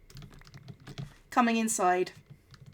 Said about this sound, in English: I can't hold push to talk while I do the typing because it's the caps lock key.